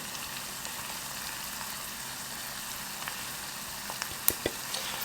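Curry powder, garam masala and garlic salt sizzle in a frying pan, a steady close hiss with a few small pops and scrapes near the end and no talking.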